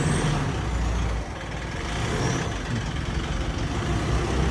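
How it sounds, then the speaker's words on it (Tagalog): A car engine runs steadily at low revs as it is eased into a tight parking spot, a constant rumble near and loud with no voices. "si daddy po yung nagpapasok ng sasakyan kasi masikip"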